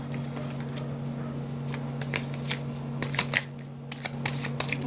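Tarot cards are shuffled and drawn close by in quick rustling, flicking bursts that are sparse at first and grow denser, over a faint steady hum and with no talk.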